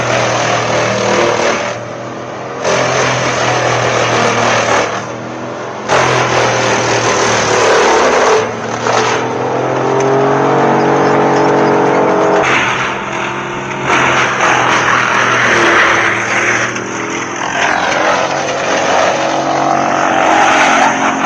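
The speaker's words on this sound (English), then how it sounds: "the chipper immediately grabs hold, its sharp blades spinning, shredding the timber into small," An industrial wood chipper feeds and shreds logs into chips, a loud sustained engine roar with droning tones that dip and surge as each log is grabbed, with brief drops in load between logs.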